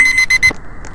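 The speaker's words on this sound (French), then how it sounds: "Oh, c'est le réveil." An alarm clock in a Roblox horror game rings in four quick, loud electronic beeps in a steady rhythm, then cuts off, followed by a brief faint blip.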